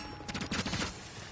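In a Call of Duty-style shooter game, a rapid burst of automatic gunfire rattles close and loud in quick successive shots, then fades into a steady background rumble.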